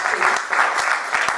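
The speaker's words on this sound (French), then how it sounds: "Can you applause for the Lord?" Church congregation applauding, a dense wash of clapping hands sustained throughout at steady volume, with faint voices mixed underneath.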